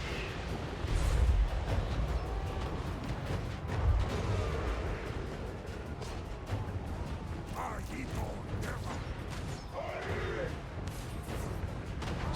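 Rockets fired by Disciples of Hashut units in a video game boom and rumble through a dense battle din, with mechanical clanks and scattered sharp blasts continuing throughout under occasional talk.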